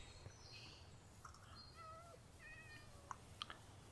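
A cat in the video game Minecraft gives a few faint, short meows over a low, steady ambient hum, followed by a couple of small clicks.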